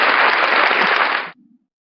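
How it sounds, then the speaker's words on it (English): A canned applause sound effect, a short burst of bright, dense clapping that cuts off abruptly, followed by a faint low tail. "I love the applause."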